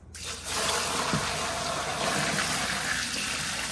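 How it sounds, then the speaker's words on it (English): Cooled brine pours steadily onto a breast-side-up Thanksgiving turkey, a continuous close gush of liquid that starts abruptly and keeps flowing loud and even throughout. "So this is our cooled brine, and we are going to pour this"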